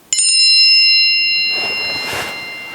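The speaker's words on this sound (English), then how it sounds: "And there goes my phone." A phone notification alert from an Android handset, a single loud bright bell-like chime that rings out clearly and slowly decays, close by and alone.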